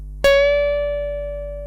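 A single plucked electric guitar note on the second string at the fourteenth fret, bent up a half step in a slow solo lesson, ringing out cleanly and sustaining with a gentle decay, alone with no talking.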